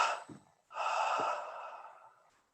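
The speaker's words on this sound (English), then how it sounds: "Let's double inhale again. Throw the breath out." A breathing exercise in a guided devotional meditation: a short quick double sniff in, then a long forceful breath pushed out, close and clear, with no talking.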